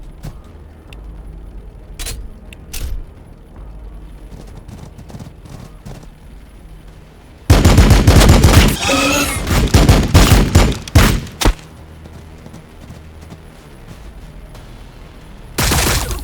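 Rapid bursts of gunfire in the sci-fi strategy game Warhammer 40,000: Battlesector, a few sharp isolated shots early, then a loud dense volley of repeated cracks midway and another burst at the end.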